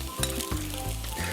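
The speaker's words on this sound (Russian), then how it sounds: "Масло жарится." Oil sizzles in a pan with rice and vegetables, a continuous close hiss with a few soft clatters and a droning tonal hum underneath.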